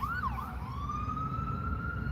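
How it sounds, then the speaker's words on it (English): An ambulance siren wails, sweeping up and down before holding a long rising tone over steady traffic rumble, moderately distant. "Every time I see an ambulance, I just, my heart"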